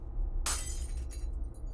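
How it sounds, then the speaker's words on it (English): An old light bulb tossed into a box of glass shards in a video game shatters in a single sharp crash, followed by a brief scatter of tinkling pieces, close and alone. "tosses the old bulb into a box where it shatters amongst the other pieces"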